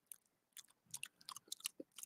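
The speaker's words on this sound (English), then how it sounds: "Eating some pepperoni and cheese." Close, wet chewing and crunching of pepperoni and cheese in a quiet room, a run of short irregular bites and mashing sounds with no talk.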